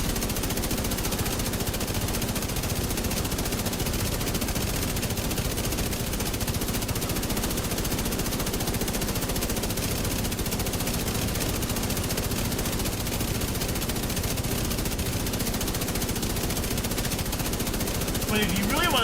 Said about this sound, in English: That wasn't a handgun. That was a rifle.